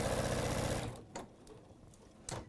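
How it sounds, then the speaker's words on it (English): A sewing machine stitches quilt pieces two at a time for a Time for Tea quilt, running in a steady, loud whirring burst before stopping, followed by a few faint clicks and knocks. "So I'm just sewing these 2 at a time so that I'm avoiding that kind of... Any warping."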